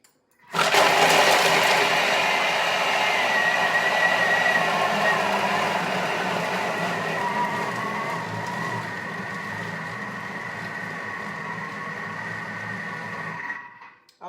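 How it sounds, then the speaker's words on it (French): Thermomix blending bananas at speed 8 into express banana ice cream, a loud steady whirring drone that runs continuously for about fifteen seconds, its pitch shifting slightly partway through, then cutting off abruptly. "ce qu'on va faire, c'est mixer les bananes 15 secondes à vitesse 8"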